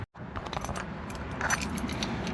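A ring of keys that came with a cheap old YJ Jeep jangles close by in a steady metallic rattle, with bright, sharp clinks coming through over a low rumble.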